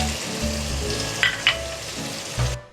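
Spiced masala of red chilli, salt, roasted crushed coriander, turmeric and green chillies roasting in a pan for a brinjal bharta, giving a steady close sizzle with a couple of brief sharp clinks, then cutting off abruptly.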